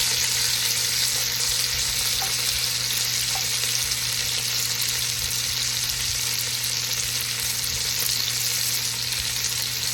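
Beef browns in bacon grease in a pan for a burgundy stew, sizzling in a loud, steady frying hiss that runs unbroken throughout with no talk.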